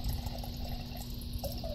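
Water streams from an LG refrigerator dispenser into a glass mason jar, a steady splashing pour at close range with a constant low hum beneath it, and no voices.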